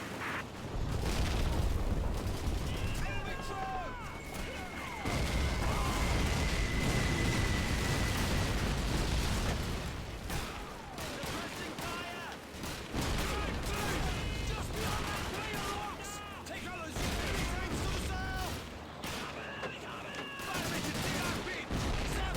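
Bren machine gun fire in Call of Duty 2, loud bursts of automatic gunfire and explosions in a busy battle mix, with scattered shots and a brief whistling tone, no talk.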